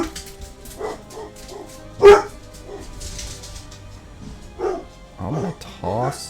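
Dogs barking in the MTG Arena card game, several short yips and barks spread across the moment, one louder burst, mixed with game sound effects.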